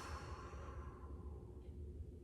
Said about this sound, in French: Expire.